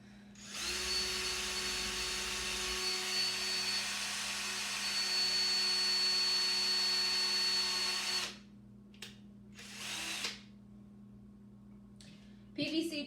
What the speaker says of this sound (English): PVC drills through pretty easily.